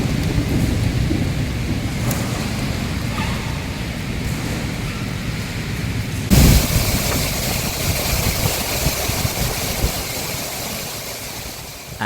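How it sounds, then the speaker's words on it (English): Heavy rain pours down steadily during a thunderstorm, with distant rumbling beneath and a sudden louder crack of thunder midway, then continuous downpour. "the camera didn't even begin to capture the gravity of what that storm felt like"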